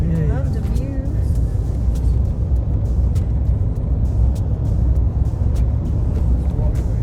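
A car driving along a road through rolling countryside near Bromfield Swamp in the Atherton Tablelands, a continuous loud low engine and road rumble heard from inside the vehicle, with a voice speaking briefly near the start.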